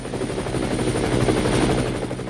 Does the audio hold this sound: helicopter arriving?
yes